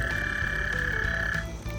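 Frogs croak at a backyard pool pond, a steady dense chorus of calls close by with a high sustained trill running through most of it.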